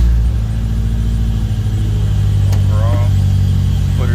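A 2005 Toyota Corolla XRS with a newly fitted factory flywheel starts up and runs in a garage, a loud, steady engine rumble with a brief voice over it near the end.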